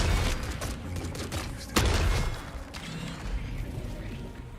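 Shotgun fire and clanking combat in the video game The Forever Winter, with a sharp blast standing out against a dense, loud, continuous wash of mechanical noise and gunfire.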